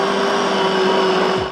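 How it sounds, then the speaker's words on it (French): A blender whirs steadily and loudly, remixing sausage meat for hot dogs in a kitchen, a constant motor drone that cuts off abruptly at the end. "Je les remélange au mixeur."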